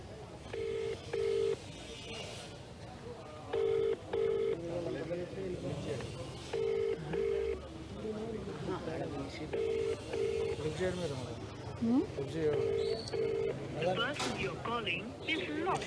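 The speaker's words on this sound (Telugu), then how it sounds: "ఒకసారి సుధీరెడ్డికి కాల్ చేస్తున్నాం ఎమ్మెల్యే" A mobile phone dials a call to an MLA, giving short bursts of paired keypad tones repeated at intervals, heard clearly under someone talking over a noisy crowd.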